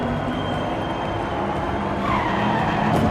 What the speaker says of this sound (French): Oh, drift de la Corvette avant le dernier virage.